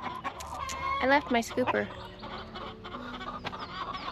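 Chickens cluck in a Zone 8 backyard garden in April, several short close calls in quick bursts, while a person talks over them.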